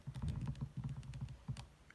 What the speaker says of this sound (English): Then I'm going to type both in.